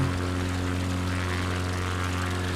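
A propeller plane in Microsoft Flight Simulator 2020 cruises on an Alaska bush flight. Its engine gives a loud, continuous, even drone with a deep buzzing hum, heard alone with no voices.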